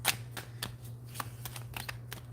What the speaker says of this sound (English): I don't know why I shuffled again